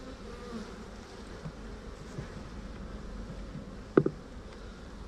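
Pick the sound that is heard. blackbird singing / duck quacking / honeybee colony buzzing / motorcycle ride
honeybee colony buzzing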